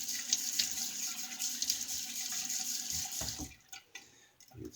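Water runs from a tap into a sink while the face is wetted for a shave, a steady close splashing stream that breaks up into uneven splashes and drips toward the end.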